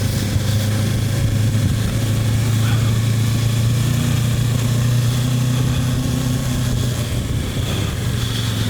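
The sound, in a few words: Kawasaki Versys 650 motorcycle engine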